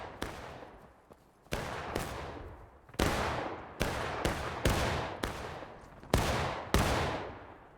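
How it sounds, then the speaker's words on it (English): Musket volleys fired by units in a video game, about a dozen loud, sharp reports in an irregular rhythm, each decaying into a rumbling tail, some distant and some close. "These are some really good unit volleys."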